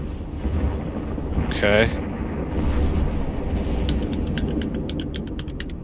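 Weapons firing on a target in the space game EVE Online: steady low rumbling hum with a burst of rapid clicky pulses repeating near the end, while a voice speaks briefly over it.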